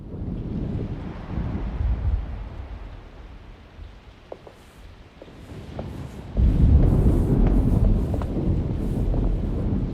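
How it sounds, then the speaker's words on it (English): Deep rumbling thunder of an approaching storm in the video game Alone in the Dark (2024), a low, windy roll building through the scene and swelling louder and heavier partway through, with faint clicks and rustles above. "Looks like a storm's coming."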